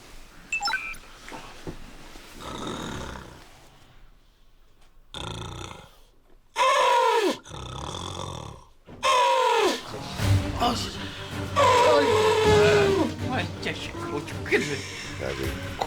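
Loud nasal snoring from a man sleeping in military barracks, rough rattling breaths recurring in bursts with gaps between, close and dominant, with scattered voices and room noise around it.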